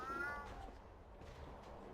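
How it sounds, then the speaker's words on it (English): A small white cat in the game Alice: Madness Returns gives one faint, short meow at the start, followed by quiet, low ambient sound. "There's a little white cat that you start to follow."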